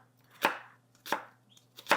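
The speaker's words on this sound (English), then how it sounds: "Just cut it in strips" A knife slices through a red onion into strips on a board, three sharp, evenly spaced cuts about two thirds of a second apart, close and clear with quiet pauses between them.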